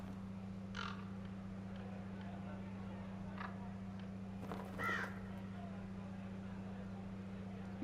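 Crows cawing in the video game Dragon Age Inquisition, a few scattered calls over a constant low ambient hum, with a louder cluster of harsh caws near the middle.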